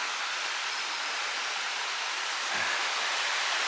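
Steady broadband rush of a river flowing along the Alum Cave trail in the Great Smoky Mountains, a continuous even wash of water with no voices.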